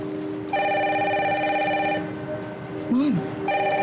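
A telephone rings in a home with a steady electronic multi-tone trill in two bursts, loud and close, and a brief sliding tone sounds between them.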